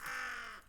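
A raven in the video game Tick Tock: A Tale For Two gives a single short, harsh caw, sitting up close and fairly quiet.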